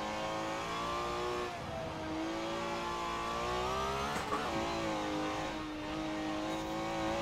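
A Ferrari 512 S vintage race car in Forza Horizon 4 roars steadily close up, its engine note climbing and dropping through gear changes with a brief dip midway and no talking.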